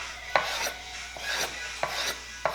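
Knife slicing onion on a cutting board, four crisp chopping strokes spaced about half a second apart, each with a brief rasping cut, close and moderately loud with no talk.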